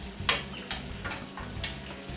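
A steak sears in a hot pan, giving a steady hiss and crackle with a few sharper scrapes or clinks of a utensil against the pan, close up and with no talking.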